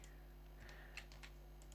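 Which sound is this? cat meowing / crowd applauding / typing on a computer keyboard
typing on a computer keyboard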